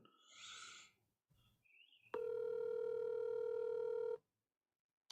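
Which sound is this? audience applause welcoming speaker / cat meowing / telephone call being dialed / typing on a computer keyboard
telephone call being dialed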